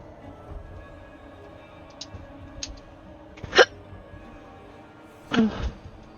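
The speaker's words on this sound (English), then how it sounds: "Hiccups." Several hiccups sound from a person, a couple of faint short ones early, then two louder, sharper ones spaced apart over a quiet background.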